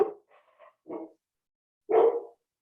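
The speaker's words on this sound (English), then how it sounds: "Oh, somebody's got a dog." A dog named Maisie barks on a call's background audio, a few short yips followed by a single louder bark after a pause, fairly close with nothing else going on.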